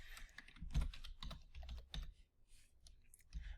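Clicks of a computer keyboard being typed on, a quick uneven run of keystrokes with one heavier tap early on and a short pause near the end.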